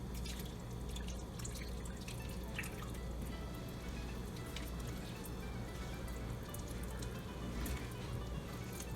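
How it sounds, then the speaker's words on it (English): A whole can of evaporated milk pours and splashes into purple sweet potato paste for halaya, a soft continuous liquid trickle with wet drips, close and fairly quiet with no talking. "So now it's time for us to put the evaporated milk"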